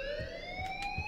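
A continuous alarm tone rises steadily in pitch in the video game Life Is Strange, loud and sustained, with faint thumps and short bursts of noise beneath it and no talking.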